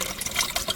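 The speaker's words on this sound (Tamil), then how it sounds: "இளநீ ஊற்று பாருங்கள், இளநீர்." Tender coconut water pours steadily into a mix for an organic spray on a sesame farm, a close, continuous splashing trickle with no talk.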